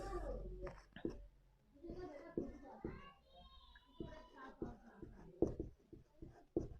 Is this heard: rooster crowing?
no